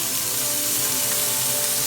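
Greens cook with crisping bacon in a hot pan, giving a loud, continuous, even sizzle and fry hiss up close with no speech.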